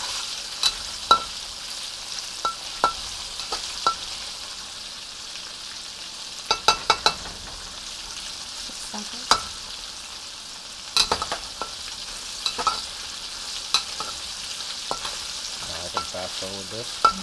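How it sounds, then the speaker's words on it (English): Kung pao sizzles steadily in a pan on an electric stove while being stir fried, with a continuous hiss broken by scattered sharp clicks and clatters of the utensil against the pan. "keep it moving around. As Yan Ken Cook said, this is stir fry, not stare fry."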